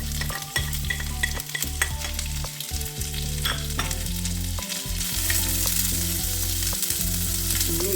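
Small onions frying in oil with ginger, garlic, green chilli and curry leaves for a jackfruit seed stir-fry, a constant close sizzle with clinks and scrapes of stirring and a low hum, no voices.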